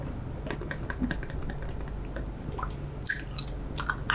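Wet, close chewing of gum, with soft smacks and squishes in an irregular rhythm over a steady low hum, loud and intimate with no talking.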